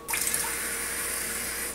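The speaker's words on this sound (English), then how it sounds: "You're gonna run just a little bit of water into it" Tap water runs steadily into a bowl of rice, a close, continuous splashing rush that starts abruptly and holds at an even level throughout, with no voices.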